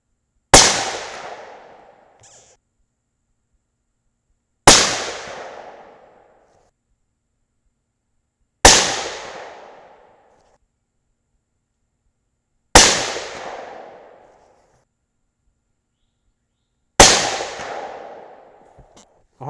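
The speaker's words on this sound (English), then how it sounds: "let's move over to a fresh dot and shoot another 5-shot group" A T/C Compass bolt-action rifle in 6.5 Creedmoor fires five loud, sharp shots, evenly spaced about four seconds apart, each a close crack followed by a short echoing decay and silence.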